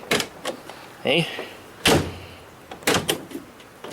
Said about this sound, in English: When you open and close this door, it doesn't fall down, it doesn't go up, it doesn't do anything wacky